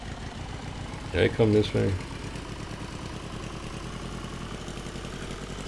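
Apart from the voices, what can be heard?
car engine idling and struggling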